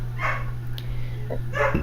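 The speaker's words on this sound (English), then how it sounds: "My dog is barking." A dog barks in short bursts from a room away, with a steady electrical hum running underneath.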